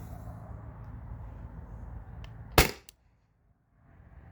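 A CO2-powered paintball marker, fed from a 20 oz tank, fires a Salt Supply S2 heavy round as a single sharp crack. The shot stands out loudly against quiet room noise and is followed by near silence.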